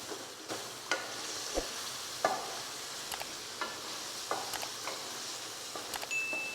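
Ginger and garlic frying for chicken karahi, a continuous sizzle broken by sharp clinks and scrapes of a utensil stirring the pan, close up and without talk.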